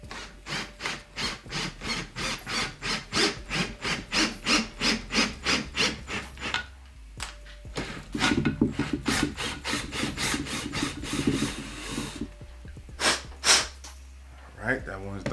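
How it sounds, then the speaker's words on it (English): A hand tap cutting threads into holes in a 3D-printed printer part, a steady rhythmic rasping of rapid strokes that pauses, then resumes less regularly with a few sharper clicks, close and fairly loud. "I'm just going to thread these holes."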